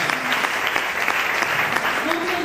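A church congregation applauds to acclaim the Lord Jesus, a steady wash of clapping filling the room with voices mixed in beneath it.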